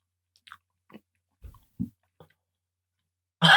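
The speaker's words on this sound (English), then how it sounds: "He is chewing though. He's chewing through it." A person chewing and biting through something, producing a short series of soft, separate crunchy bites spaced about half a second apart, close and quiet, ending in a louder burst of noise.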